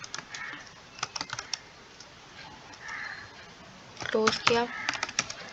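Keys on a computer keyboard clatter in short bursts and quick flurries at close range, with pauses between, while a person talks in Hindi-Urdu over and between the typing.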